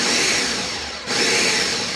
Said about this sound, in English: Saying a prayer for my Ninja blender.